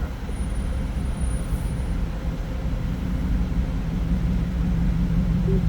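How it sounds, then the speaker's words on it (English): An automatic car wash running, a steady low mechanical rumble with faint whirring, continuous and enveloping, no voices. "I was going through the car wash"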